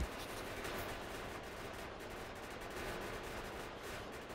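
Steady rapid gunfire in a modded video game, aimed at an elemental creature, a dense continuous stream of shots at moderate level with no pauses and no voices.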